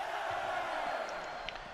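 Wrestling arena crowd roaring in a steady, loud wash of cheering throughout, with a brief sharper shout near the end.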